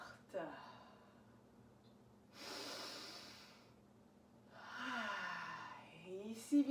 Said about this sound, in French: Respire à fond.